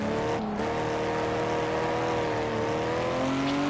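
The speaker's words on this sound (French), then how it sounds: "là dès que j'accélère ça part tout de suite" Race car engine in Project Cars holding a steady, droning pitch that climbs slightly as the car accelerates, loud and continuous with a brief dropout early on and no talking.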